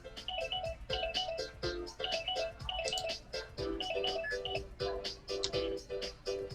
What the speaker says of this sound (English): the conversation grinds to a halt when Misaki's phone trills in her hand